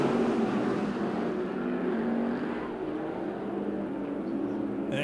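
IMCA stock cars race at Az Speedway, a pack of engines roaring together at a distance with layered droning tones, steady and continuous throughout.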